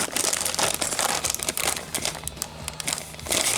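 Tearing open a plastic accessory bag from a Figma Doom Slayer figure box, a continuous loud crinkling and ripping of thin plastic that crackles steadily throughout.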